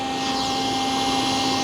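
A wet-dry water-suction vacuum cleaner for self car washing runs steadily and loudly, with a constant whining motor drone and airy rush, close up and uninterrupted.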